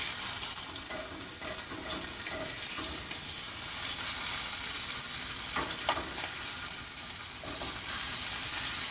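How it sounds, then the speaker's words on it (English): Short ribs sear in a hot pan for red wine braised short ribs, giving a steady, dense, close sizzle and hiss throughout. A few faint clicks and shifts sound as the meat is turned. "I'm going to flip it to the last side."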